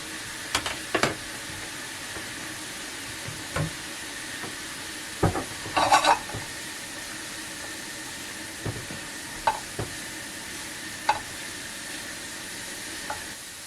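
Leeks fry quietly in a pan with a soft continuous sizzle, broken by occasional stirring scrapes and clicks, no voices.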